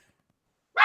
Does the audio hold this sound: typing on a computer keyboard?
no